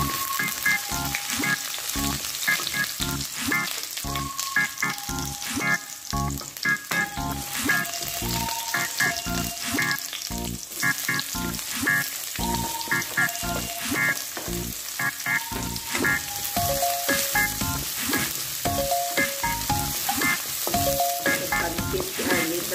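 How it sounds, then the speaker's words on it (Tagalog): Liver sizzles steadily in a hot pan as it is sautéed for pancit at a small birthday get-together, a dense, continuous frying crackle with occasional stirring and no voices. "Gisahin na natin ang ating atay."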